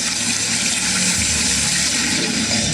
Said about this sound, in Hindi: यहाँ सतत क्षिप्रा नदी की निर्मल धारा बहती है।